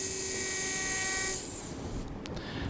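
A 3.5 mm taper drill spins into bone while a dental implant site is prepared, a steady high-pitched whine that drops in pitch partway through, heard close and alone.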